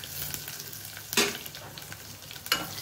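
Dried red chillies fry in hot oil with mustard seeds, giving a close, steady sizzle broken by two sharp crackling bursts as the pan is stirred.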